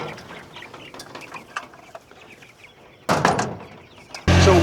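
Chickens cluck on a pasture farm, with scattered calls over a busy outdoor background, then a louder close burst of activity and a sharp noisy rush at the very end.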